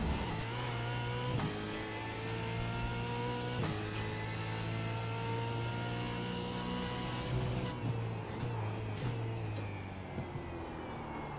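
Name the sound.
Ford Mustang supercar engine revving in iRacing video game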